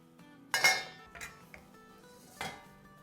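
Dhaba-style goat gosht curry being dished out into a serving dish, with a loud clattering clink of a utensil against the dish, followed by a few lighter scrapes and knocks and another clear clink near the end.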